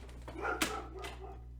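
A pet dog at home gives a short bark or yip, with a brief whimpering edge, fairly close and not very loud over a low steady hum.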